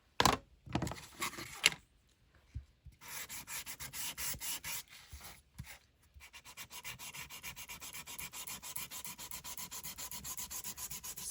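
Ground espresso is rubbed along black cardstock in dry, gritty strokes, starting with a few sharp scuffs and pauses, then settling into a steady, close, rapid scraping rhythm that carries on to the end.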